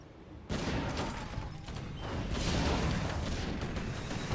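Four mortar teams fire in a strategy video game battle, pounding Moon Wells: a dense, continuous barrage of booming explosions and rumbling impacts that grows slightly heavier midway.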